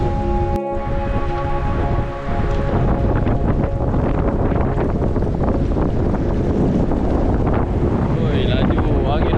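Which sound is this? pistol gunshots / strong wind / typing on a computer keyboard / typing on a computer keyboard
strong wind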